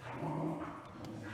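Two five-month-old puppies growl and whimper at each other in a low, rumbling exchange, slightly distant and quiet, with no talk over it.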